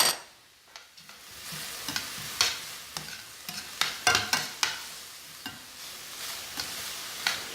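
Peppers stir-frying in a hot pan with scallions and ginger, a steady sizzle broken by repeated sharp scraping and tossing strokes, close and fairly loud.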